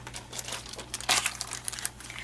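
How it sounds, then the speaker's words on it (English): Sticky tape is pulled off and pressed onto a sheet of acetate, giving close, crackly peeling and crinkling bursts with one louder rip partway through, over a low steady hum. "So I'm going to take my acetate and add some sticky tape to it."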